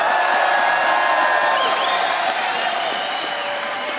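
A big crowd at a Swedish esports arena applauds and cheers in a steady, loud wash, with scattered whoops and whistles rising through the clapping.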